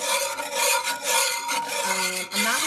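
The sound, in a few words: whisking sauce in a cast iron pan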